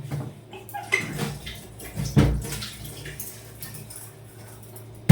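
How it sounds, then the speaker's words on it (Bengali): Pots and pans being scrubbed and rinsed with running water in a home kitchen, with steady splashing and trickling, occasional clinks of metal utensils, and one louder clatter in the middle. "তো চলো এখন বাসন কুসনগুলো মেজে ফেলি"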